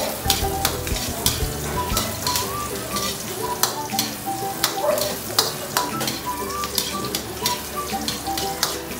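Ginger sautés in a pan for ginataang manok, a steady sizzle of frying broken by repeated scraping and clinking stirs of a utensil against the pan.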